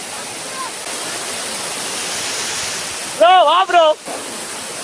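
Water pours over the Kodiveri dam in Erode, a steady broad rush like a waterfall filling the whole clip, with a voice briefly calling out near the end.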